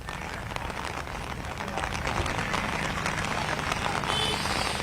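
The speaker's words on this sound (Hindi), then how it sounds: "एक बार फिर से तेज बारिश राजधानी में शुरू हो गई है" Heavy rain falling in Raipur, the capital, a dense broadband hiss of drops on surfaces that grows slightly louder and continues steadily without talk.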